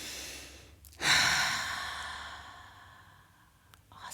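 A long audible exhale during a slow hatha yoga session: a short breath in, then a loud, airy breath out that swells suddenly and fades slowly over a few seconds, close and alone.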